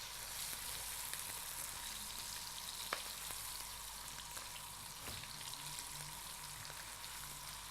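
Garlic mushrooms frying in a pan, a steady hissing sizzle that stays fairly loud and even throughout, with occasional small pops and no talking.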